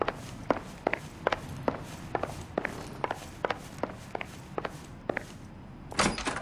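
Footsteps on a hard floor in a run-down flophouse hallway in the video game L.A. Noire, about a dozen evenly paced steps, close and distinct, followed by a door opening at the end.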